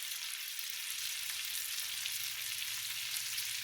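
Garlic butter beefsteak slices frying in a pan, a steady broadband sizzle with crackling spatter that holds even throughout, close and alone with no talk.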